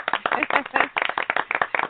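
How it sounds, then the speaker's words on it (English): An audience at a live talk event breaks into brisk, dense clapping, a close burst of many hands with a quick, uneven rhythm and some voices mixed in. "Big round of applause."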